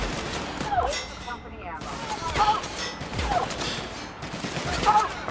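Gunfire in The Outer Worlds video game: repeated sharp shots and bursts crack in a loose, irregular rhythm over a busy mechanical background, fairly loud and close, with several distinct volleys across a few seconds.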